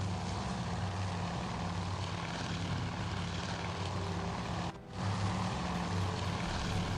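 Torpedo bomber engines in a World War II naval battle in the game Task Force Admiral: a loud, steady propeller drone that holds throughout and dips briefly once before returning.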